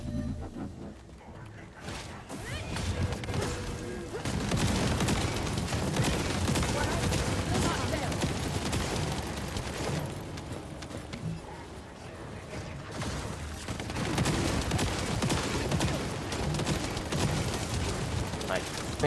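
Rapid weapon fire and mechanical clatter from the video game The First Descendant, loud and dense in sustained bursts with brief lulls, under game effects.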